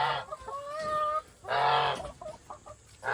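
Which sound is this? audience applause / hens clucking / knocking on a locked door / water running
hens clucking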